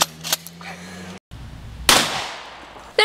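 Gunshots fired at a target outdoors, two sharp loud cracks about a second apart, the first following a short silence and the second trailing a brief ringing decay.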